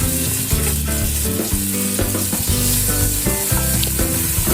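Green chillies and tomatoes sizzle steadily in a pan with browning onions for aloo matar, a loud continuous frying hiss with faint stirring underneath.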